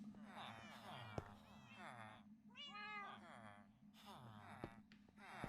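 Several cats meow in a blocky sandbox game world, short mews scattered over a steady low game background while a person talks over most of it.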